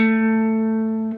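One guitar note, fretted at the 7th fret of the D string and picked once with a downstroke for a song lesson, rings out alone and decays slowly before it is cut off.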